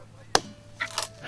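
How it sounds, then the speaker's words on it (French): A single sharp chop of an axe splitting a log for firewood, close and abrupt, followed by faint scraping and knocking. "c'est le son de la hache fendant la bûche qu'elle croit entendre au loin"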